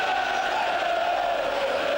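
Nearly 21,000 fans at a Leicester City home game against Atletico Madrid at Filbert Street, a dense, sustained roar of chanting and cheering that holds steady and loud throughout.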